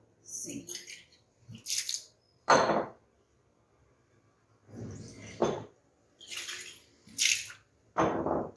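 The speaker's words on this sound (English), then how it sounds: "So I wash the conical flask." Water splashing and swirling in a conical flask at a lab sink, several separate bursts of rinsing and pouring with short pauses between, close and fairly loud.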